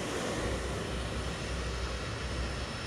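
An aircraft engine roars steadily as a plane parks on its stand in fog at Heathrow, a dense, loud, unbroken drone with no breaks.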